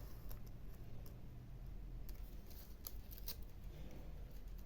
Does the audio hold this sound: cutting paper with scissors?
yes